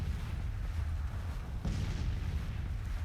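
Cannon and rifle fire from a Civil War video game battle rumbles continuously as a dense, muffled roar, with one heavier boom near the middle and no speech over it.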